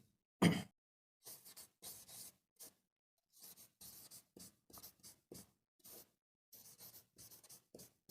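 Marker or chalk strokes on a board forming a sentence: a sharp, loud scratch near the start, then a long run of short, brisk scraping strokes in irregular bursts with brief pauses, close up and with no talking.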